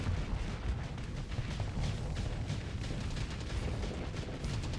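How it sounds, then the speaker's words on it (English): Spaceship weapons in Starsector fire in a dense, continuous barrage, a rumbling wall of overlapping booms and crackles that stays loud and steady throughout with no voice. "Right. Opening fire."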